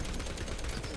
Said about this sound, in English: I am definitely hearing something shooting.